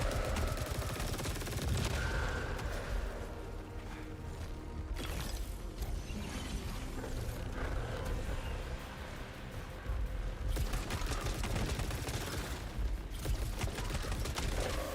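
Rapid automatic gunfire from the video game Saros, dense and loud throughout, with mechanical clatter mixed into a continuous barrage and brief lulls between bursts.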